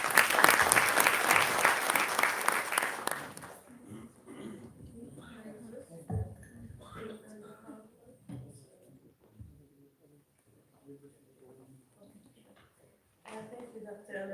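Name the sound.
audience applause welcoming a speaker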